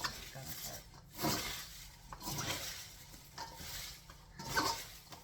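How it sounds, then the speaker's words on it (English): Shredded cabbage being mixed by hand with salt for sauerkraut, giving soft rustling, squishing sweeps that come in slow repeated waves, quiet and close. "What we have to do is mix the salt in with this."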